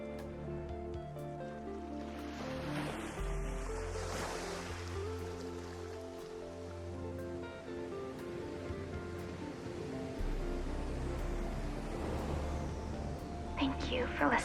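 Ocean surf in the video game Subverse washes steadily under a bed of sustained music tones, a continuous wash of waves with a brief brighter swell near the end.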